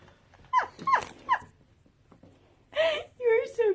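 A dog named Rocket makes three short whining, growling yelps, then after a pause gives longer whimpering, moaning vocalizations, close and fairly loud in a quiet room.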